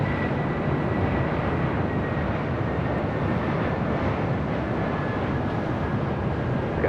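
Asiana Airlines A380 airliner taxiing at LAX, a steady broad jet engine roar with a faint high whine, continuous and even in level, heard from a distance without talk.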